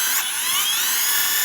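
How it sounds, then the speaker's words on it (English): A power drill grinds continuously into a stubborn bolt on a Volkswagen Golf R, a loud, steady, high whine with no talking over it. "We're gonna drill this, hopefully."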